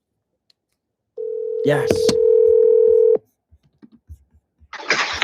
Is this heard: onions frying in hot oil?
no